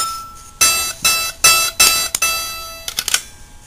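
An E note tapped on a xylophone with a small striker, used as a pitch reference for tuning a pentatonic harp: six or seven bright, bell-like hits in quick succession, each ringing briefly, close up and unaccompanied.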